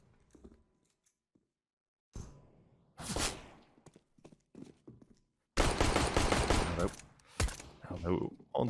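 Glock 18 pistol fire in a Counter-Strike match, GamerLegion vs Savage, sounding as loud, dense bursts of shots at close range, broken by quieter gaps.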